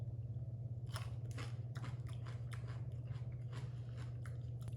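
Cucumber being chewed with a salt-free everything seasoning of sesame seeds, poppy seeds, garlic and onion; a close, steady run of crisp bites and crunching chews repeats over a constant low hum, with no talking.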